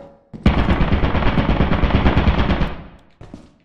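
Automatic turret in the Lethal Company video game firing a sustained rapid burst of loud gunfire for over two seconds, then cutting off, with no talking.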